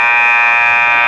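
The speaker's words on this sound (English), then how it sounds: "There's the buzzer" A basketball halftime buzzer at a women's college tournament game blares as one loud, sustained, harsh electronic tone lasting about a second, alone with no talk.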